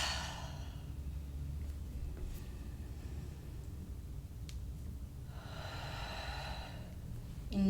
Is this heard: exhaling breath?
yes